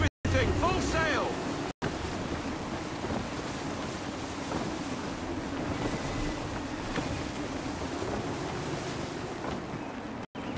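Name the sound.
sailing ship in gusty wind, from video game Assassin's Creed III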